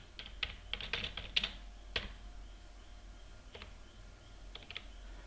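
A computer keyboard typed at close range while words are entered into a Photoshop generative fill prompt, in brisk bursts of light clicks with short pauses between them, fairly quiet and with no voices.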